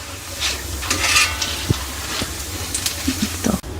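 Kara boondi fries in hot oil while being stirred, giving a steady close sizzle. Scattered scraping and clinking strokes from the utensil sound over it.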